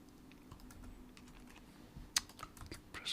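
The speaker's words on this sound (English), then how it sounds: "Keep pressing the wrong keys." Soft, scattered clicks of typing on a computer keyboard, close but faint, with one sharper keystroke near the end and no talking.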